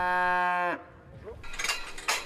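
Dairy cows on a 400-head farm near Paris give a loud, drawn-out moo up close, followed by quieter farmyard rustling and a few brighter clatters.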